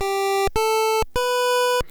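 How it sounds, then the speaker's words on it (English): Three sustained pulse-wave chiptune tones from a tracker instrument at full volume, each a steady bright buzzy note cut off sharply, the third held longest, loud and alone. "so I'm just playing a couple of tones here in pulse"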